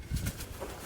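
A young pigeon in a loft gives soft, low coos close by, with faint rustling and light background noise.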